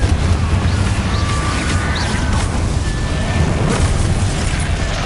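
Confringo, the blasting spell in Hogwarts Legacy, sets off a sustained roaring explosion, a dense, loud, continuous burst with crackling debris and faint tonal magic shimmers on top.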